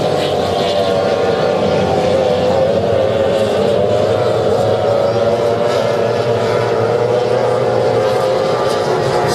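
F2 racing powerboat engine roaring steadily during a race heat on a river, a loud, sustained high-revving drone that holds constant throughout with no breaks.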